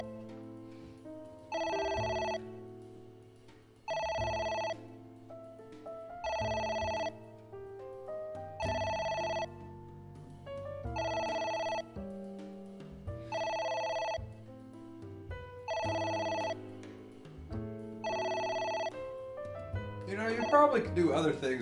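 A telephone rings repeatedly in AI: The Somnium Files, with evenly spaced bursts of electronic ringing, each about a second long with short gaps, over a quiet low background.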